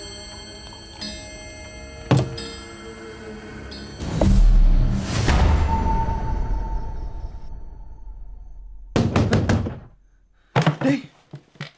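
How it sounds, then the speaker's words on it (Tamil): Knocking on a door in a Tamil film scene, a few sharp raps amid a ticking clock, bursts of music and scattered thuds, ending in quick clusters of knocks. "டேய் அழகு, யாரோ கதவு தட்டுறாங்கடா."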